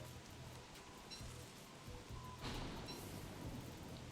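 Lightning and thunder in the video game Don't Starve: a steady rain-like wash runs throughout, and a thunder crack with a rumble swells up midway.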